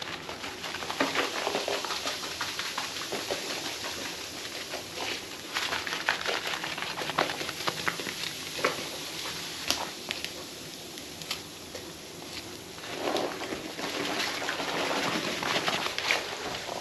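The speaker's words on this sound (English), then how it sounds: "I'm just going to kind of mix it all around." A lemon juice and baking soda cleaning solution is stirred steadily, giving a continuous fizzing, sloshing wet patter with faint scraping, close and moderately loud throughout.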